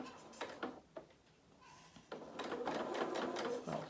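Domestic sewing machine running a seam on fabric for a soft toy rabbit's body and limbs, short bursts of stitching then a longer steady run as it backs over the end, close and clear.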